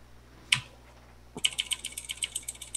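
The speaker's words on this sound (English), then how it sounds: "So I'll just shuffle my deck back up." Gloomhaven board game cards are riffled and shuffled after one sharp snap: a quick burst of crisp, rapid flutter close to the microphone, with no voices.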